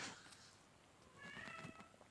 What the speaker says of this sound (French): je sais pas si vous entendez mon petit chat, mais, mais il miaule